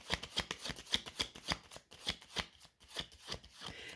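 Tarot cards being shuffled, a steady run of crisp riffling bursts repeating roughly every half second, close and fairly quiet, with no talking.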